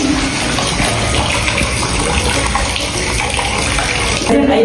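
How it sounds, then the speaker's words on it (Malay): Water gushes steadily from an open tap, a loud, continuous rushing flow that fills the whole stretch close by, with no voices over it. "Awak kena tutup paip lepas awak buka paip ni."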